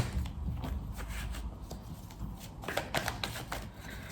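Tarot cards are shuffled and drawn close by, a steady papery riffle and slide with quick flicks and taps throughout, moderately loud with no voice over it.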